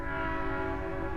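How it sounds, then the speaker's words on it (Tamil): A steady, loud train horn blares in the Roblox horror game The Train Tunnels, one sustained tonal blast with a rumbling low undertone and no voices. "ஐயோ என்ன ட்ரெயின் சத்திய நண்பர்களே."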